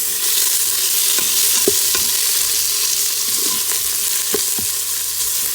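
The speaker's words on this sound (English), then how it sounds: "my onions have now started to caramelize" Onions frying and caramelizing in an Instant Pot, a steady broadband sizzle that holds throughout at close range, broken by a few faint clicks of stirring against the pot, with no talk.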